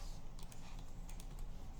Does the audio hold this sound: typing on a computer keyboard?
yes